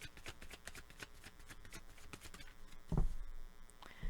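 Tarot cards are shuffled in the hands, a rapid run of crisp riffling flicks, followed by a sharper slap and rustle as cards are drawn and set down close by.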